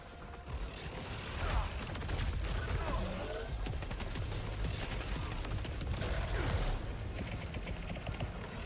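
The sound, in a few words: pistol gunfire in the video game Saros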